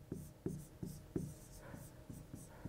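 Pen or marker strokes on a surface as two river names are written out, a series of short scratchy taps and drags in an irregular rhythm, close and fairly quiet, with no talking.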